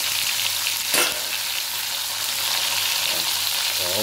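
Chicken browning in a pan of hot oil, a steady, dense sizzle that runs throughout with a brief louder crackle near the start and no talk.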